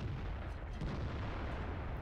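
A tank cannon firing in the video game World of Tanks, a heavy, dense boom with rumbling low-end, sustained and loud throughout without any talking.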